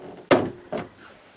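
A door in a home craft room closing with a sharp wooden knock, then a softer second thud about half a second later, close by and alone in a quiet room.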